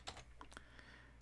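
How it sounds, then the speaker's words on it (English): A few scattered keystrokes on a computer keyboard, quiet and close, with soft clicks spaced irregularly over a low steady background hum. "I'll just kind of finish typing this out"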